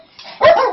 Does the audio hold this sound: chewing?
no